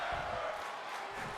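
Crowd at a live wrestling show, a dense roar of voices and cheering that holds loud and steady throughout.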